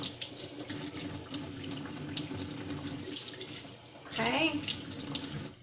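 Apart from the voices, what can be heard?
rinsing cardoon under running tap water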